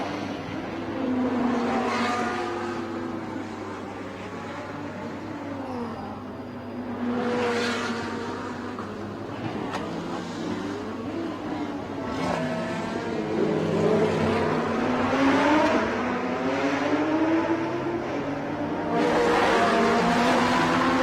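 A Lamborghini and a Ferrari race car battle on the Bangsaen street circuit, engines screaming as they pass close by in repeated loud revving sweeps, with shifts and swelling passes over about twenty seconds.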